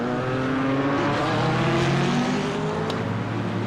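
Field of GT4 race cars on track in a sim racing game at Okayama, dense loud engine drone with several overlapping revving notes and gear changes, close and continuous, no talk.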